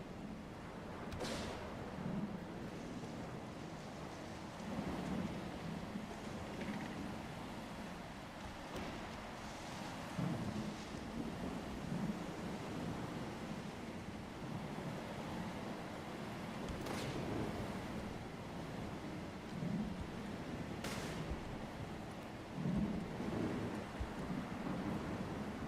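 Low, steady rumble of rain and distant thunder fills a stormy outdoor scene in S.T.A.L.K.E.R. 2, with a few faint sharp crackles breaking through the constant wash.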